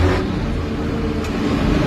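A car engine revving up as the driver presses the accelerator, a steady close engine drone with a slight rise, heard alone without talk.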